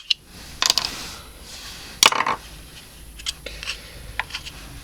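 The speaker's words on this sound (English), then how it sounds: "if you want to remove this, you just click that out there like that" Small, sharp plastic clicks come from a B3S push button switch being pressed and snapped out of an IMO panel. Two or three distinct snaps stand out against a quiet background, followed by fainter handling ticks.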